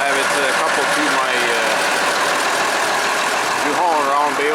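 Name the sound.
Case International 7120 Magnum tractor engine running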